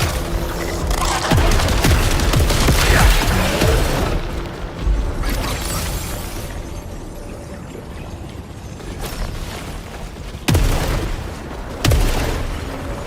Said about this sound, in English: Pistol with explosive rounds.